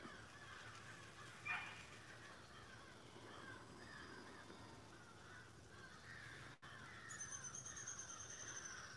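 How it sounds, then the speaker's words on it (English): Crows caw harshly and repeatedly while mobbing a hawk, faint and some distance off, with a louder flurry of calls near the end. "Wonder if there's a hawk or something over there, because them crows are sure having a fit"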